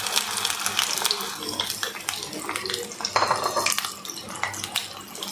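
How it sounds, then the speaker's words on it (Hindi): Ground onion paste, blended from two onions with a little water, goes into hot oil in a kitchen pan, giving a continuous clattering sizzle with utensil scrapes and knocks while a person talks over it. "ऑयल जब गर्म हो जाए तो हमने इसमें जो 2 प्याज हमने थोड़ा सा पानी डाल के ग्राइंड की थी वो हमें डाल देनी है इसके अंदर"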